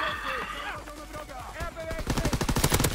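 Rapid automatic gunfire from a PlayStation 4 first-person shooter, a dense burst of repeated shots building in the second half over game noise, with a voice heard briefly early on.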